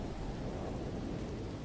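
A thunderstorm rumbles on a planet in No Man's Sky: a continuous dense wash of rain and low thunder, loud and unbroken, with no voices.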